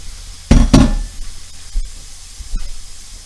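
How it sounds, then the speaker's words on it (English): Pork is laid onto onions in a hot pan, setting off a loud burst of sizzling that eases into a steady hiss with a few soft clinks, close by and without speech. "So I'm just going to put the pork right on top of the onions"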